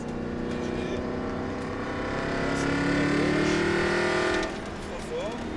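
A car engine at light throttle pulls away from the pit lane onto a racetrack, a steady moderate drone that swells slightly and then eases, with a voice talking over it.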